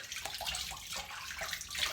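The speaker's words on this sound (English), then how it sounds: "So I'm just gonna rinse first." Water splashes at a bathroom sink as a face is rinsed, with close, soft, irregular sloshing and dribbling continuing for a couple of seconds.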